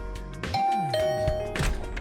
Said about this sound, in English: I rang the bell by the side of the door.